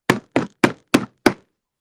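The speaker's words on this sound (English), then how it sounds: "The knocking grew violent." Five heavy, evenly spaced knocks strike a door in quick succession, each a loud close thud that dies away instantly into silence.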